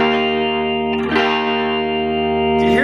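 A single sustained guitar note fretted at the 12th fret rings through distortion, its tone slightly wavering and fluctuating throughout, with a brief pick or hand noise midway and another near the end.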